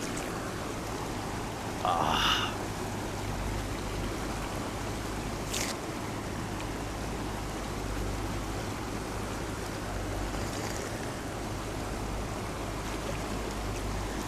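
Glacier-fed Alaknanda river at Karnaprayag rushing in a steady, dense wash of water noise, close and continuous, with a couple of brief higher splashes rising above the flow.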